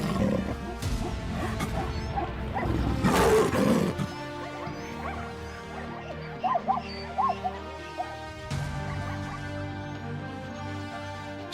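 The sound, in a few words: lion roaring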